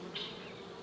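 A bee buzzes close by near a beekeeper's head beside swarming hives, a steady drone that swells briefly, with no talking.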